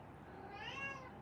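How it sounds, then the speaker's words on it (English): A fussing cat lets out one short, close meow over a steady background hiss, with no one speaking. "My cat is fussing"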